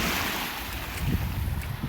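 Lake Michigan waves wash onto an Illinois Beach State Park shoreline in a soft, continuous surf. Wind buffets the microphone throughout, with no voices.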